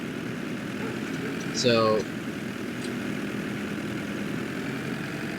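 An old 23-horsepower tractor in Farming Simulator 22 drones with a steady low engine hum and idle rumble throughout, while someone talks over it briefly.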